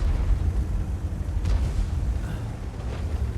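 A tank cannon shell striking an enemy tank in a World of Tanks-style game with the Object 260: a dense, rumbling explosion that fills the stretch, with a sharper impact crack partway through.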